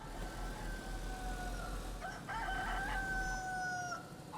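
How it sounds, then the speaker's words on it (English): A chicken in the video game DayZ gives a rooster-like crow partway through, a mid-distance call over a steady outdoor ambient hum. "Old chicken."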